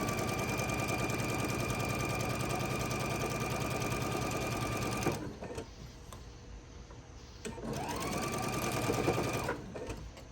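A sewing machine chain piecing fabric rectangles for a Christmas tree table runner runs in a fast, steady mechanical rattle, stops briefly, then whirs back up to speed for another stretch.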